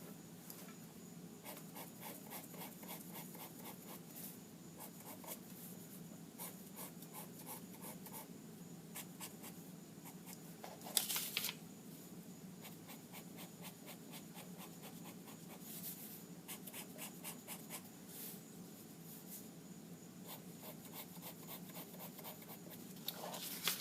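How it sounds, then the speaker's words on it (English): Steady, faint scratching of a drawing tool pulling lines across paper, a continuous soft rasp with small rhythmic strokes throughout and one brief louder scrape midway. "now let's draw in our lines"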